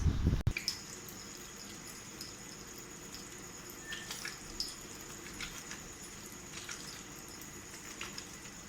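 A tap runs steadily during handwashing, a soft even wash of water with small drips and splashes over it and no voices.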